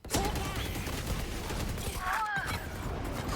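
Gunfire during a competitive Valorant playoff match, a wall bang shot fired through cover, with dense rapid bursts under continuous game noise and brief shot-like spikes, all at a steady loud level.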